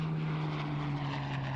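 A Merlin engine powers a Hawker Hurricane WWII fighter, the last one flying, in a steady loud propeller drone with a strong low hum, heard alone.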